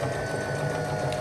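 Sewing machine stitching closed the lining of a denim corset top, a steady, continuous mechanical whir with a low motor hum that runs close and unbroken throughout.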